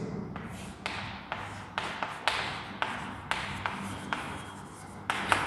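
Lecturer writing on a board during a solid-state chemistry class: a steady series of about ten sharp taps and scratchy strokes of chalk or marker, evenly spaced and close, with no talking.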